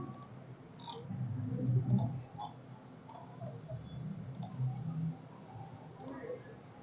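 Mouse clicks in CAD software for corridor modelling, a handful of crisp single and double clicks spread unevenly, close and light under soft speech and background murmur.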